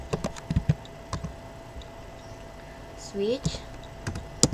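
Keys clatter on a computer keyboard in scattered, irregular bursts of clicks while someone talks over the typing.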